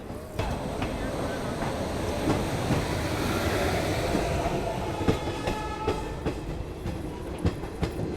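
Garib Rath express train on the Jammu route rolling along the rails, a steady loud rumble with rhythmic clickety-clack wheel beats growing sharper toward the end, heard from on board.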